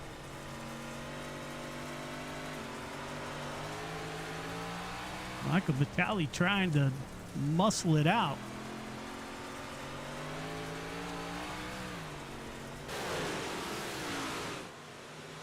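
On-board view from a dirt track race car at I-55 Speedway, its engine droning steadily throughout while a commentator speaks over it.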